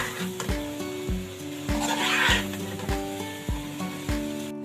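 Eggplant fries in a pan with a soft sizzle while a utensil stirs it, knocking against the metal in a steady, rhythmic series of ringing taps.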